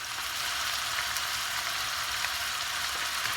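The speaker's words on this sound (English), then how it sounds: "I've added 2 pounds of ground beef to my pan with a little bit of olive oil" Two pounds of ground beef frying in a pan with a little olive oil give off a steady, even hiss of sizzling that holds constant throughout, with no talking.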